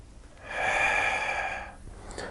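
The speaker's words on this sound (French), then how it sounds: "On va souffler en reculant et inspirer en se redressant." Breathing during a Pilates-style core exercise for runners: a single long, audible breath of about one second, close to the microphone, with quiet room noise before and after.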